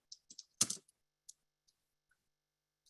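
Quiet computer keyboard typing, a short cluster of keystrokes with one heavier clack, then a few sparse, isolated taps trailing off into silence, with no talking.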